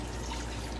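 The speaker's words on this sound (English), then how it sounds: "I am going to go ahead and put 2 cups of water in here" Water pours into an Instant Pot while pork ribs sit on a rack inside, a steady, close liquid splash and trickle lasting under a second with no talk.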